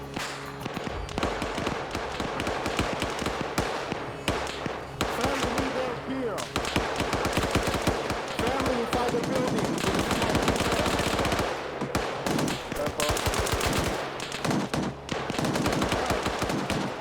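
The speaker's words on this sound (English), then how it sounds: "someone came up and shot me there" Dense video-game gunfire rattles almost nonstop, rapid automatic bursts and sharp cracks layered loud and close across the whole stretch, with voices talking faintly underneath.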